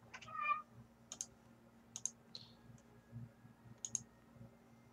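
A cat in a Novgorod strategy game gives a few short, bright meows and clicks spread across a quiet moment, alone and fairly faint over a low background hum.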